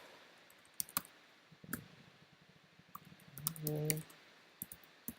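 Sparse keystrokes clatter on a computer keyboard while a router is configured, scattered clicks at uneven intervals, close and moderately loud, with a brief low hum of speech partway through.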